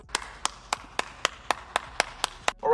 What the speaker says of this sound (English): I had to clap, bro.